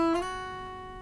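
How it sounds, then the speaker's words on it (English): A guitar string slid along the neck with the finger bumping over the frets, a single plucked note gliding in pitch and then ringing and slowly fading, close and fairly quiet. "you can hear that I'm bumping over the frets as I'm going."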